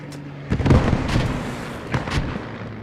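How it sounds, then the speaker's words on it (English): A Churchill tank fires HE shells in the tactical shooter Post Scriptum, with booming blasts and rumbling impacts, several distant thuds and a couple of heavier bursts over continuous battlefield noise. "The Churchill's still placing HE down."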